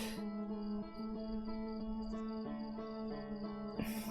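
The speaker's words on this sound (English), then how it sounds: "Probe is now older than the current universe. And still working, based on the fact that it was making a buzzing noise." Outer Wilds probe giving off a steady electronic buzz, a sustained drone with layered tones that shift slightly in pitch, faint and continuous, with a brief swell of noise at the end.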